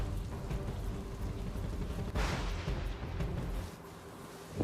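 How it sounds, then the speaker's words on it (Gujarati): Heavy rain falls with strong wind gusting during a storm in Banaskantha, a dense continuous roar of downpour and wind that swells around the middle, with no voices. "ભારે વરસાદ સાથે પવન પણ ફૂંકાઈ રહ્યો છે"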